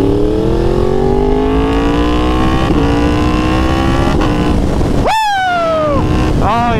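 A Yamaha R1 sport motorcycle engine on twisty roads, loud and close, climbing steadily through the revs before a sharp drop and a new rising pull, with a rider's brief shout and strong wind rush.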